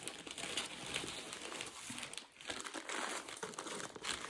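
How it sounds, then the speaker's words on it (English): Plastic packaging crinkles and rustles continuously at close range as a planner notebook is unwrapped, a dense crackling with a brief pause midway, no talking. "let's open the notebook now"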